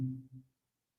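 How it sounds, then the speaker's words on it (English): A low telephone line tone sounds just after a caller on a radio call-in show drops off, two short buzzing pulses with a brief dip between them, then silence. "Sue, you dropped off. I think her phone went dead."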